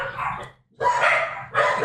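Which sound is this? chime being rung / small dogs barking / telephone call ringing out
small dogs barking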